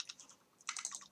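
Quick bursts of keystrokes on a computer keyboard, a short run of taps followed by a faster cluster, close and fairly quiet in an otherwise still room.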